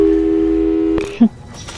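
A steady, loud telephone tone from the video game Portal 2 drones for about a second before cutting off, followed by brief electronic blips and a voice over the line.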